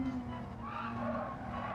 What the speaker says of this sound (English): Whoa, we're in the barrier.